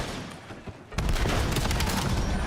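Pistol gunfire in a Call of Duty esports match; after a quieter second, a dense, loud burst of rapid shots and impacts fills the rest of the moment.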